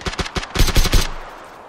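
Loud, close automatic gunfire in the battle royale video game PUBG, a rapid burst of about ten shots that speeds into a dense cluster before ringing off into a fading tail.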